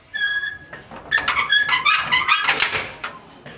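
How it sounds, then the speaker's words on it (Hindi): A temple door being pushed open: a string of squeaky, creaking tones with bright overtones that rise and fall over about three seconds, close and fairly loud, with no talking. "ये हमने दरवाज़ा खोला"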